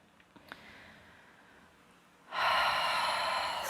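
A pranayama breathing exercise: a few quiet sniffs, then a long, steady, airy breath that swells in and holds loud and close, with no talking.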